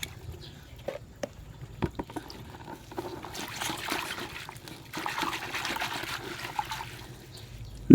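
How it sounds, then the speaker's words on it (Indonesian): Water runs and trickles while aglaonema plant leaves are rinsed by hand, a soft, uneven splashing that grows fuller midway, with a few light knocks and handling noises and no speech. "Ini ada air teman-teman. Saya cuci di sini."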